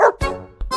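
A small dog gives a couple of short yips and barks close by, quick and sharp, with no talking over them.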